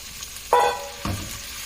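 A pound of crawfish hits a hot pan with cooked shallots and garlic, giving a loud burst of sizzling and then a second, softer sizzle as the pan is stirred.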